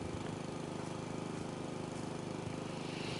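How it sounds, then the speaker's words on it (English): Lawnmower cutting grass in the House Flipper 2 video game, a steady droning engine hum that stays even and continuous throughout with no talking. "we're cutting the grass."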